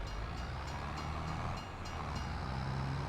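A train passes in the video game Farming Simulator 25, a steady broad rumble and rolling clatter with a faint high tone, continuous and fairly close throughout.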